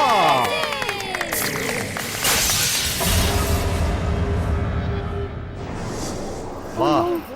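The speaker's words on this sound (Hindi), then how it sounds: "मेरे बेटे ने बॉल मारा और आपके घर के खिड़की का शीशा टूट गया" A cricket ball strikes a house window and the glass shatters with a loud crash, and fragments keep tinkling and scattering after it. A crowd cheers and claps in the background, and a voice rises near the end.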